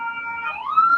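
An ambulance siren passing nearby, a loud wailing tone that rises in pitch over a brief moment.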